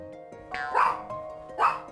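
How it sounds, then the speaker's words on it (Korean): A pet dog barks indoors in a room, giving two sharp, close barks about a second apart over a faint steady tone. "역시나 방 안으로 들어가자 짖기 시작합니다"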